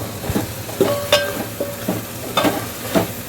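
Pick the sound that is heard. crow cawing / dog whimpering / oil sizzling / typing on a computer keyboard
oil sizzling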